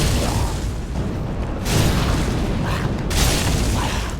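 Thrown fire bursting in Dark Souls, a run of loud booming blasts with rushing fiery noise, swelling around the middle and again near the end, dense and close with no talk.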